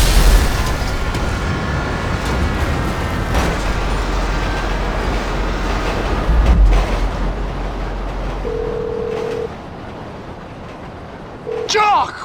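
Train in Grand Theft Auto V: a loud, sustained low rumble of rolling rail cars with heavy thumps and a boom partway through, then a steady tone and quieter rumble toward the end.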